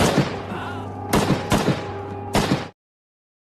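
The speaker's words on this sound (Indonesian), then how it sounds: "Tanpa aba-aba, para tentara sipil langsung menembak mati mereka semua" Bursts of gunfire as soldiers execute a group of people in a civil war film: a loud rapid volley, then several sharp separate blasts close by, ending abruptly in silence.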